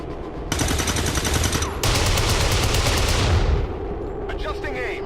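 Soldiers fire guns in XCOM 2, loud sustained automatic bursts rattling back to back for several seconds, close and dense, fading into a quieter tail.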